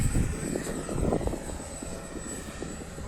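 H-King Viper64 RC jet with full flap flying slowly overhead, a steady high electric ducted-fan whine with a low rumbling wash, continuous and moderately loud with no talking.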